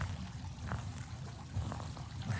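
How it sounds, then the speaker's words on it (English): Water bursting from a fountain in the Phasmophobia video game, a steady splashing pour with small trickling bursts, moderately loud and heard alone. "There's that water bursting. Oh, there's a fountain."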